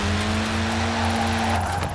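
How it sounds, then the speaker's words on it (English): Steady, droning engine hum of an off-road car driving in Forza Horizon 4, a sustained low tonal note held at constant loudness throughout. "And we're in an off-road car as well."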